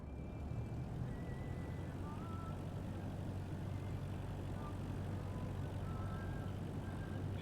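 Steady droning engine of a Cessna aircraft coming in to land in a flight simulator game over Ireland, a constant close hum with no break and faint whining tones above it.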